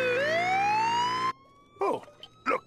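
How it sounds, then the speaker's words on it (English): A siren wails in a long rising tone, then cuts off, followed by two short swooping siren bursts; fairly loud and close. "Oh, look, an ambulance."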